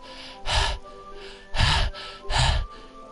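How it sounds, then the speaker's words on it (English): Someone sucks air sharply through clenched teeth in Doki Doki Literature Club, three close, breathy gasping inhales spaced about a second apart, with faint music underneath. "It sounds like breathing. A sharp inhale, like someone is sucking air through their teeth."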